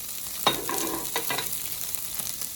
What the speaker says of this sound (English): some tofu cooking on the cast iron and some peppers